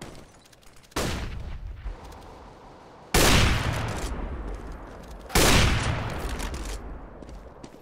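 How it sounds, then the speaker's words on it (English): Three loud blasts from a shooter video game, spaced a couple of seconds apart, each a sharp broadband burst that rings and decays slowly, as a flashbang grenade going off. "I'm throwing a grenade."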